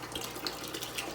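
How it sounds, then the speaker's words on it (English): Nutrient water pours into a 5-gallon bucket for indoor tomato plants, a steady close splashing gush that continues briefly without pause. "I'm gonna continue pouring the rest of these nutrients into this 5-gallon bucket"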